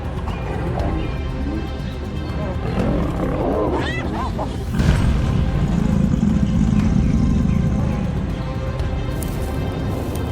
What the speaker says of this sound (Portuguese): O leão ruge e avança como uma fortaleza viva.